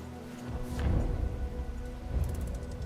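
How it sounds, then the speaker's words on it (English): Rain falling in the Valley of Floods in a Roman strategy game, a steady wash of drops with low rumbling swells, moderately loud and continuous with no talk. "As you're walking through the valley, it starts to rain"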